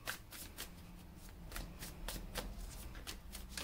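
Light Seers Tarot cards riffled and shuffled by hand in a steady run of soft, papery bursts, close and fairly quiet, with no voices.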